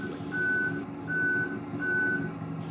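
A reversing forklift sounds its warning beeper: three evenly spaced, steady tones repeat at a regular rhythm over a low engine rumble, with no speech.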